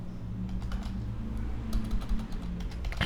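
Typing a command on a computer keyboard, a run of close, uneven key clicks of varying loudness over a low steady hum, with no talk.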